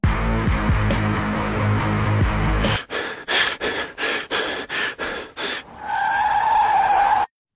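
A car skids to a stop with its tires squealing. The loud skid comes first, then a run of sharp bursts and a closing squeal.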